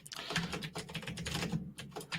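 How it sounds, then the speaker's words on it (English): Fingers type steadily on a computer keyboard, close and fairly quiet, producing irregular bursts of clicky keystrokes with a short pause near the end. "So I'm typing between 3500 and 1200"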